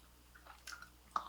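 Soft, wet chewing of a jam-filled berry glaze donut, a few close squishy bites and mouth sounds in a quiet room with no talking.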